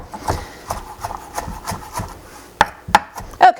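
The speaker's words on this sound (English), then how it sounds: "So we're just gonna give this a chop." Knife chopping fresh mint leaves on a cutting board, a run of steady close taps that quickens into a few sharper, louder strikes near the end, with no talking.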